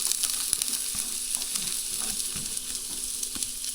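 Chopped aromatics sautéing in hot canola oil for Filipino chicken tinola, a steady close crackling sizzle with faint scraping stirs throughout and no talking.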